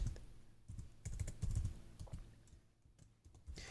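Bursts of keystrokes on a computer keyboard entering a user ID, uneven clusters of clicks with brief gaps between them, close and clear, with no talking.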